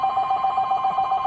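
A telephone rings steadily and fairly loud, a continuous electronic bell tone holding through the whole short moment with no voices.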